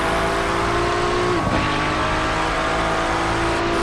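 An engine note from a McLaren race car in the iRacing sim at the Daytona 24 Hour, holding a steady high drone throughout with a brief pitch dip partway through, loud and constant with no talk.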